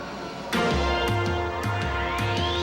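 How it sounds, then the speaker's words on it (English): Mid-1990s CART open-wheel race cars roll off at Road America, their engines revving in a steady, pulsing rhythm close by, loud and continuous after a sudden start, with a rising whine building toward the end. "The cars are rolling."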